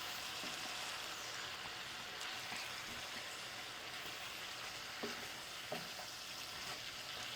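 Spicy pork and Korean rice cakes sizzle steadily in a hot pan as they are stirred, a constant frying hiss with a few soft scrapes and taps of the utensil, close and without talk.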